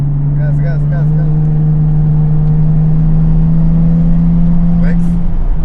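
A car powering along a race track at the Petzael circuit during a driving lesson, a loud sustained engine drone holding steady under acceleration while an instructor's voice calls out over it in short bursts.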